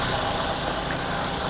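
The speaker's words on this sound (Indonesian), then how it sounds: "Dan ini untuk suara mesinnya" An SUV engine idles smoothly, a steady even hum with no knocks or rough noises, close and continuous with no talk.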